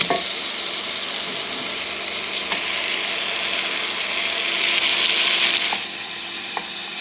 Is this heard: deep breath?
no